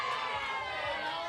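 A crowd cheers and hypes up a powerlifter at an APU WA States meet as he unracks a 210 kilo lift, a dense, steady roar of voices holding at a constant level throughout.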